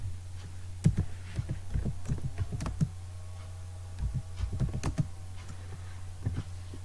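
Light, irregular keystrokes on a laptop or PC keyboard, clusters of quick taps separated by short pauses, close and fairly quiet over a steady low electrical hum.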